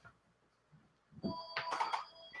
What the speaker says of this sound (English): I thought I unplugged that phone. It must be ringing off the battery base